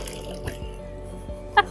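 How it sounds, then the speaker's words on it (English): Milk poured into gluten-free blueberry muffin batter, a few soft liquid drips and small splashes, close and brief, with one sharper plop near the end, no talking. "we're going to do half a cup of milk while he's incorporating the dry ingredients"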